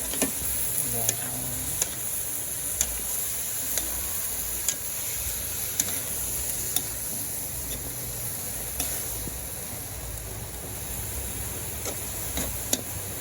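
Beans cook in a dry pan with no water, giving a steady sizzle broken by light, regular clicks and scrapes from stirring.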